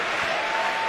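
A basketball arena crowd cheers and applauds continuously at a Wagner vs Missouri game, a loud, dense, sustained roar of clapping and shouting throughout.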